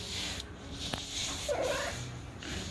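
A pet cat named Stoli purring softly while being given butt scratches, a low steady rumble close by with a faint background hum and a few brief higher sounds over about three seconds.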